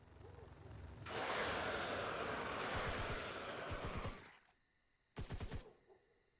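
Rapid bursts of video game gunfire fired to burn off ammo, a sustained loud volley for about three seconds, then a short sharp burst after a pause.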